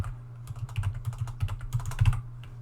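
Rapid, irregular clatter of keys on a computer keyboard, close and fairly loud, typed in short bursts during a programming lecture with no talking.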